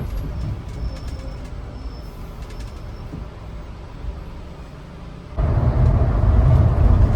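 Inside an LLT Travels Scania sleeper bus on a Bangalore to Vijayawada highway run, racing another Scania, a steady low engine and road rumble drones, then swells sharply louder and deeper as the bus accelerates.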